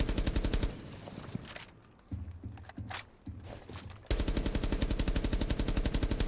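Rapid automatic gunfire from Thermite's weapon in Rainbow Six Siege X, sustained bursts of sharp evenly spaced shots that break off midway for a few scattered single rounds, then resume as a dense continuous stream.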